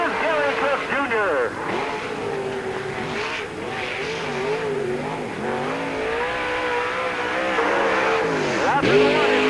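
Race car number 64 at Peoria Speedway in the 1997 Busch 100 roars steadily through a lap, engine pitch rising and falling through the corners, loud and continuous beneath a public-address announcer talking.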